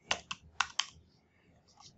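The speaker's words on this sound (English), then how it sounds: "I can start typing it" Someone types on a computer keyboard: four crisp, close keystrokes in a quick uneven burst, then near-quiet with a faint late click.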